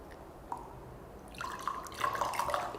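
Kangen alkaline water at pH 11.5 is poured into a mix of water and oil, a faint trickle swelling after a quiet start into a steadier splashing, bubbling pour with no voices.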